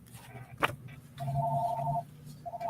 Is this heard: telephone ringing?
yes